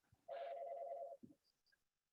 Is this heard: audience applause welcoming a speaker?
no